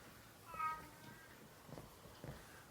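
A house cat meows once, short and faint, followed by a couple of softer, brief vocal sounds against a quiet, hissy background.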